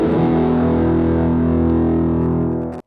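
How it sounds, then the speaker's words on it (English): A heavily distorted electric guitar holds a sustained bent note on the G and B strings in a blues style, loud and steady for nearly three seconds before cutting off abruptly. "Or I play the B string after bending the G string."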